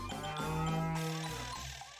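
A single long, deep cow moo rings out close and loud for about two seconds, with no other sounds.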